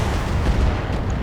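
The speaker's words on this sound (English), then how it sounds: "got some stray shots hitting the catapult there" Stray weapon fire strikes a Catapult mech in the BATTLETECH game, a dense rumbling barrage of booming impacts that stays loud and sustained throughout.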